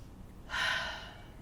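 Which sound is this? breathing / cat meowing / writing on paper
breathing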